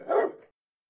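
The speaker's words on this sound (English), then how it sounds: "Gunter just growls and lets out like a bark." Gunter the dog lets out a single short growling bark, close and loud, that cuts off abruptly into silence.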